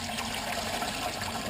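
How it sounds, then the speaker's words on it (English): Liquid poured through a strainer into a bucket, a continuous soft splashing trickle, close and moderately quiet, with no talk. "I'm just going to pour this out to strain out the bits and the pieces"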